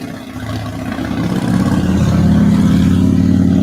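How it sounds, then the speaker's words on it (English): A heavy truck drives past up close, its engine roar building from a moderate rumble into a loud, sustained drone that holds steady to the end, with no talk over it. "that one heck of a truck driving by"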